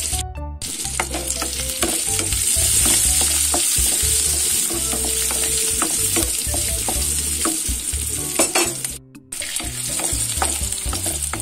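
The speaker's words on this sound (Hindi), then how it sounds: "जीरा फुटी गला बर्तमान प्याज को दे दूँ।" Cumin seeds and onion frying in hot oil in a wok, a steady loud sizzle with stirring scrapes throughout and a brief dip near the end, no talking.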